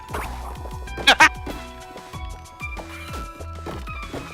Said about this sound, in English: Smashing goals like we're smashing pots in here.